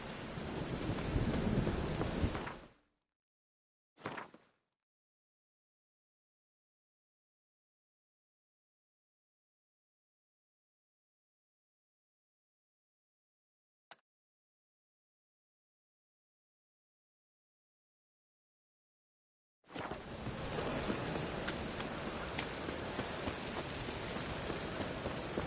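Steady rain and a storm's roar in The Witcher 3: Wild Hunt play for a few seconds, then break off into a long silence with only a brief blip before the rain noise returns just as strongly.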